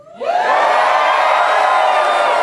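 A large audience at a spiritual gathering erupts into sustained, loud screaming and cheering, rising quickly from quiet into a dense, continuous roar of many voices.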